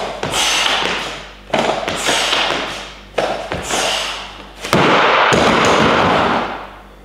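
Barbell hang power cleans in a gym session, a set of three reps: sharp metallic clanks and thuds of the bar and plates at each catch and drop, loud and close, with no talk.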